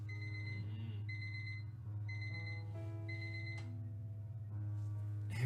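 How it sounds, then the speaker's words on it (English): An alarm clock in the game Fragments of Him rings in a steady run of repeated electronic beeps, grouped in short bursts over a constant low hum, with a few faint clicks near the end. "Harry never wakes up from my alarm"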